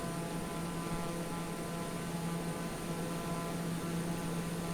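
Steady turboprop engine drone of a TBM850 single-engine aircraft in Microsoft Flight Simulator, a constant tonal hum with a strong low whine, heard alone and unbroken throughout.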